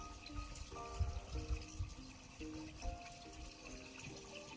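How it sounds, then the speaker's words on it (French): Water from the Fagous fountain, a spring-fed public fountain along the Stevenson trail, runs in a steady close splash and trickle, with a fluctuating bubbling flow and no voices. "La fontaine des Fagous."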